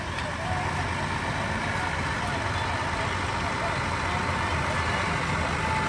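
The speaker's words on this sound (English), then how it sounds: "here comes a big tractor" A big tractor rolls past during an evening Christmas parade in Brazil, Indiana, its engine a constant low rumble that stays steady and close for the whole stretch.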